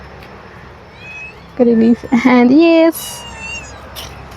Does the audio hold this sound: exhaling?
no